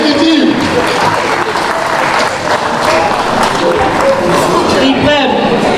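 An audience applauds and cheers loudly and steadily throughout for the executive president at an evening fundraising gala for a solar farm project.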